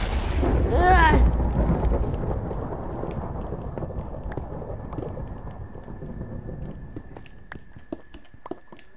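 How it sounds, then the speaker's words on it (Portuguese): Minecraft thunderstorm with rain: a loud rolling thunder crash opens, then steady rain hiss continues beneath scattered sharp game clicks and ticks, with no talk over it. "A chuva e essa tempestade."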